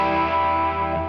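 An open G string on an electric guitar rings out with heavy reverb and delay, a sustained hollow tone holding steady and close for the full second with no talking.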